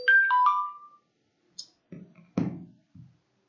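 A phone's melodic ringtone sounds loud and close during an online live class, a short bright tune at the start followed by a few scattered clicks and knocks in otherwise quiet surroundings.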